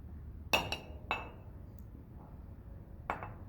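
A spoon clinks against a glass of water as salt is added, three or four sharp bright taps with short ringing decay and quiet gaps between them.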